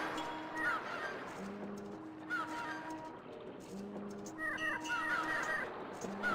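Seagull-like calls echo around a port in Grandia HD Remaster, repeated squawks over soft game ambience and background music.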